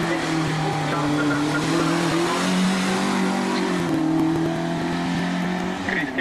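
Yugo race car pulling away from the start of a hill climb in Ajdovščina, pulling weakly and unevenly; a loud, close engine drones steadily with harmonic revs throughout, rising briefly near the end.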